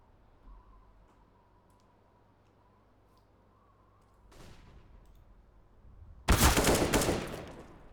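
A loud burst of M4A4 rifle fire in Counter-Strike cracks out after a long quiet stretch of low hum, preceded by a softer rush of noise.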